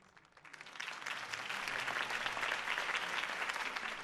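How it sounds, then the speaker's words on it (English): Applause from a crowd at a political campaign rally in the video game Telltale's Batman, swelling in over the first second and then holding as a steady, moderately loud clapping. "could have heard that applause"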